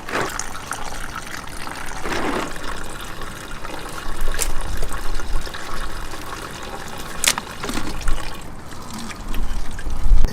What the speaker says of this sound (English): we're gonna drain the rest of it from here so that we don't get the backwash from here into that, so we can have a clean coolant.